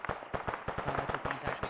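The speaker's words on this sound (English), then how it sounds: "They're shooting at somebody." Gunfire in ARMA 3, a rapid series of sharp cracking shots in quick irregular bursts, moderately distant and fairly faint, with no talk during the shots.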